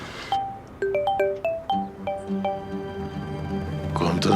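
A mobile phone ringing with a bright, repeating melodic tone, clear and fairly close, over a low background murmur.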